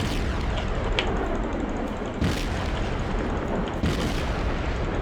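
Naval guns fire in World of Warships, heavy booming blasts landing at intervals over a dense, loud rumble of battle noise, with sharp bursts around the middle and near the end and no talking.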